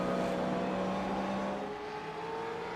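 Pushrod race cars in a heat race at Summit, a dense steady engine roar with sustained revving tones, several cars blending into one loud continuous drone that shifts pitch as they pass.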